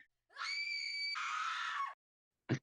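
A long, shrill human scream sound effect rises and holds for over a second, then cuts off, followed by a short sharp burst after a pause; clear and isolated against silence.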